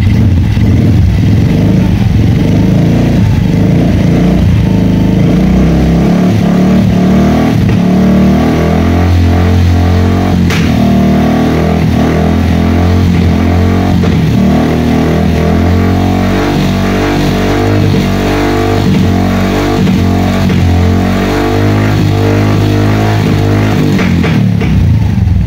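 Suzuki Smash 115 motorcycle engine, suffering a backfire issue, revs loud and close in a steady sustained drone with a rhythmic mechanical clatter throughout.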